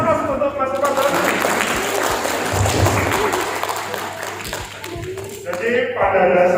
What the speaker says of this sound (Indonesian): Oke, aplaus untuk Mas Umar Dhani.